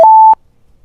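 A phone accessibility app's target-found cue: one clean steady electronic tone held for about a third of a second, loud and close, ending abruptly with near silence after.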